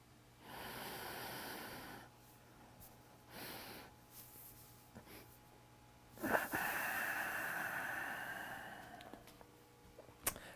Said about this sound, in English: So that's the three-part breath